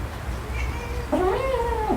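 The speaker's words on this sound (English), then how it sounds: "And my cat wants to come in." A cat meows with a long, rising-then-falling cry in the second half, close and fairly loud over a steady low background hum; an earlier faint tonal call sits further back.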